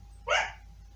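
A single short, sharp yip from a puppy upset by a neighbor's remodeling, heard once at moderate distance over a quiet low hum.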